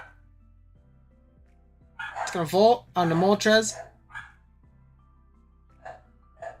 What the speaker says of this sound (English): Hold on, sorry, my dogs are barking.